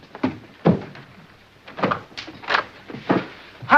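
A front door opens in a sitcom household, heard as a series of separate wooden thunks and knocks, a handle rattle and the door swinging, spaced unevenly and close by with no voices.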